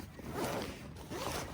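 A zipper on a small side pocket of a 20L hydration backpack, pulled in two quick close strokes with a short pause between, nearby and fairly quiet with no talk.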